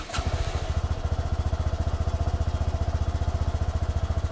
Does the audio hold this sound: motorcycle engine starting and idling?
yes